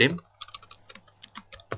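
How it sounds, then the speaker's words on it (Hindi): Short bursts of typing on a computer keyboard while entering an AutoCAD command, a quick run of close, crisp key clicks after a brief low thump at the start. "अपने कीबोर्ड से आपको ये वर्ड एंटर करना होगा"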